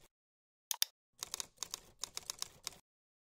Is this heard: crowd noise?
no